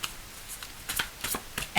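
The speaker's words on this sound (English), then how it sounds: "I'll go again, shuffling them" A deck of tarot cards being shuffled close by, with soft papery riffles and taps in a few short bursts over a quiet background, ending in a brief louder rustle.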